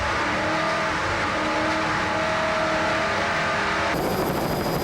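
Offshore racing powerboats at the 1994 Catena Offshore Grand Prix, including a 40-foot Hustler with 700-plus horsepower engines, roar continuously and loudly at the green-flag start, a dense sustained engine drone that shifts abruptly near the end.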